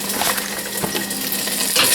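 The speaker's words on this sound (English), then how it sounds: "Now I've got some olive oil in the pan with some garlic" Garlic frying in olive oil in a pan, giving a steady close hiss and crackle that runs unbroken throughout with no voices.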